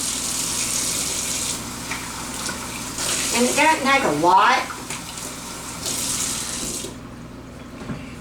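Warm water runs from a kitchen tap in a steady hiss for several seconds, then cuts off, while a person talks briefly in the middle.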